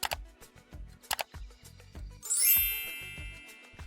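A bright notification bell dings once and rings out with a shimmering tail, cutting in over a steady, thumping electronic music beat.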